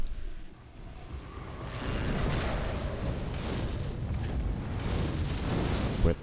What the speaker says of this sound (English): Quit throwing fire at me.